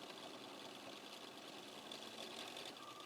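A sewing machine runs steadily, stitching a fabric strip along the side of a triangle on a quilt block, making a continuous mechanical whir at moderate, even volume without pause.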